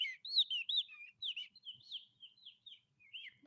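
Small birds chirp and tweet in quick, high, clear phrases, several short calls in a row at moderate loudness, with no voices, played as ambience at the start of a Portuguese podcast episode.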